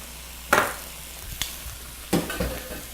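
Onions for beef stroganoff cook in a pan, with a few scraping stirs and soft sizzling bursts against a quiet hiss and no talking.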